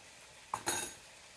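A bowl is taken out in a home kitchen while cooking broccoli and beef chow mein, giving two brief, close clinks of dishware in quick succession against a quiet room.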